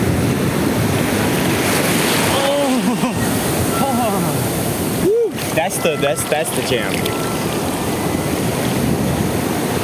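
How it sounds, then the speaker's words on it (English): Surf breaks steadily on a Florida beach, a continuous loud wash of waves with wind buffeting the microphone, while a person wading in talks and exclaims over it. "They're not huge waves."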